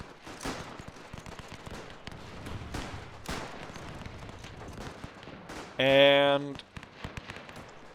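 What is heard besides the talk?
troops opening fire in the WW1 video game Between Empires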